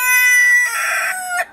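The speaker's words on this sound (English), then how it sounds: "Hello, chickens." Chamois Spitzhauben chickens crowing and clucking close by: a loud drawn-out crow trailing off into raspy clucks, with no talking.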